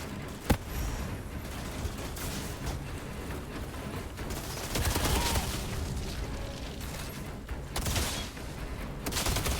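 Gunfire in the Outriders shooter game, bursts of rapid shots and mechanical weapon clatter running continuously with a loud crack near the start, dense and close throughout.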